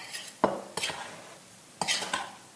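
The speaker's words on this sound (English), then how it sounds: "So we're just going to mix up our dry ingredients really well" Dry ingredients for banana nut muffins, flour with baking powder, baking soda and salt, being whisked in a bowl: a few sharp scraping taps and stirring strokes against the bowl, close and fairly quiet.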